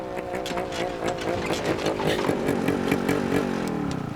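A motorcycle engine runs close by, loud and rough, with a warbling, sputtering pitch that rises and falls over a few seconds and no one talking over it.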